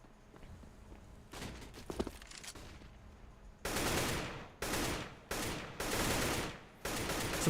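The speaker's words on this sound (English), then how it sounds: "Some blind fire at A long." Automatic rifle fire in CS:GO on the Dust2 map during a professional match, several loud sustained bursts in quick succession separated by short pauses, with quieter scattered shots beforehand.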